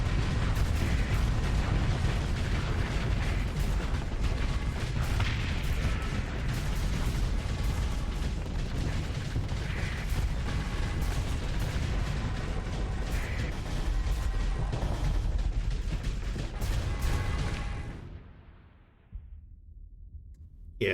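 Starsector ship weapons firing on both sides in a space battle, dense rapid booms and bursts layered continuously, then abruptly dropping to near silence at the end.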